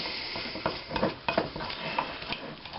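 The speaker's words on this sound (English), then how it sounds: "Get it mixing up. Keep mixing, keep mixing." Doughnut dough is mixed in a bowl, with steady rhythmic scraping and stirring and light clinks of a utensil against the sides, close and fairly loud, with no speech.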